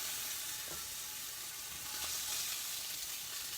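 Sea scallops sizzling steadily in a hot pan, a continuous bright hiss of frying with faint scraping of a utensil, and no talking.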